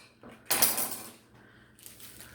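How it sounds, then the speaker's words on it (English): A knife cuts through a slab of soft Hawaiian sandwich rolls, giving one broad, crackly rasp that fades over about a second, followed later by fainter scraping and handling. "slice your buns all the way through"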